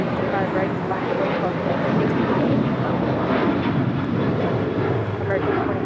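An Air Canada heavy airliner taking off from runway 25 right at Los Angeles International Airport, a loud, steady jet engine roar holding level throughout.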